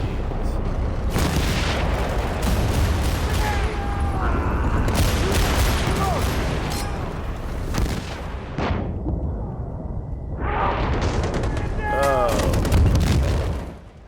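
Tank cannon blasts and rapid gunfire from Battlefield 1943 on Xbox Series X boom loudly and continuously for most of the stretch, easing briefly toward a lull before heavy firing returns, with voices talking underneath.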